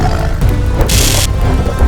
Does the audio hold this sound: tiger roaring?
yes